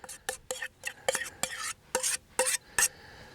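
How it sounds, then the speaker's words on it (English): Fork or spoon scraping and spreading garlic-butter roasted mashed potatoes over a dish, a series of short, close scrapes and soft clinks at an uneven rhythm, with no talking. "And spread that around with a fork or a spoon until it covers the top."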